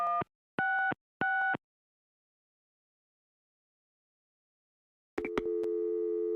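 A telephone in the Gabriel Knight video game, three evenly spaced beeps, a pause of silence, then a few clicks and a steady continuous tone.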